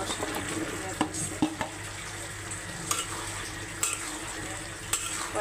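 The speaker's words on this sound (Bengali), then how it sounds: "আমার মাংস কষানো হয়ে গেছে, এখন আমি আলু ছেড়ে দেবো।" Beef and potatoes stirred and fried in a pan, a steady sizzle under repeated scraping of a spoon against the pot with a few sharp clinks of utensils, close by.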